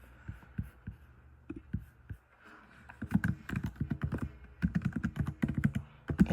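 Fingers type on a computer keyboard in a quiet room, producing soft, irregular clicks in sparse taps at first and then quicker clustered bursts, close and fairly faint, with no talking.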